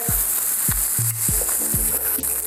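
Pan-seared trout fillet sizzling steadily and loudly in a hot pan just after being flipped, with a few soft scraping clicks of a utensil over the continuous frying hiss.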